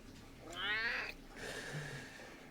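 A cat gives a drawn-out, rising meow and then a softer, longer second call, both close and clear against a quiet room with faint background noise.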